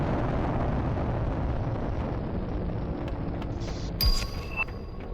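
In The Planet Crafter, an oxygen rocket launches with a steady, loud, roaring rumble that holds for several seconds, with a brief bright burst near the end.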